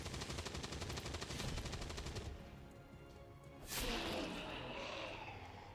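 Rapid automatic gunfire from Singularity: Mechatronic Uprising, a dense rattling burst that stops abruptly, followed by a sharp whooshing impact and lingering noise.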